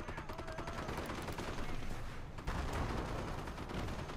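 Battlefield gunfire in a Company of Heroes 1v1 match, with a StuG assault gun and machine gun amid rubble; dense, continuous volleys of shots and rumbling impacts fill the whole stretch, steady and loud with a heavier burst midway.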